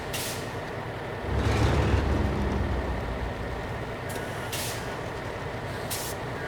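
Truck air brakes hiss in Snowrunner on hard mode in Alaska, a rumbling surge near the start followed by steady engine drone and a few short sharp releases of air.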